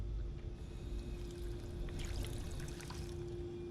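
Clear water runs in Fallout 4 as a faint steady trickle and pour, with splashy patter that rises briefly midway and then holds at a low, even level.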